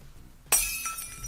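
Glass shattering as monsters are destroyed in a Yu-Gi-Oh Cyber Heroes card duel: a sudden loud crash followed by a bright, lingering tinkle of falling shards.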